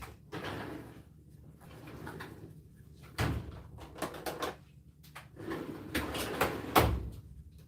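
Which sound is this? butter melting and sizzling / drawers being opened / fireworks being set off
drawers being opened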